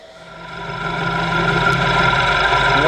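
A small homemade lathe machine whirs steadily while taking a 3 mm cut, a loud, even mechanical hum with a faint grinding edge that builds a little over a few seconds, and no one speaks.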